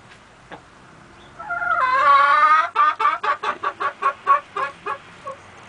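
Hens cluck close by: a drawn-out rising squawk, then a run of about ten sharp, evenly spaced clucks, loud against a quiet farmyard background.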